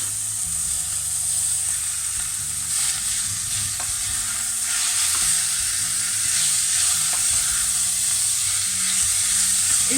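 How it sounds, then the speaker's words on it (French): Minced meat browns with softened onions in a pan for a parmigiana, giving a loud, continuous sizzle with a spoon scraping and stirring through it, close up and with no voices. "Et je fais revenir le tout jusqu'à ce que la viande soit marron, ça cuit."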